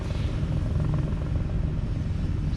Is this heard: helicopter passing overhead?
yes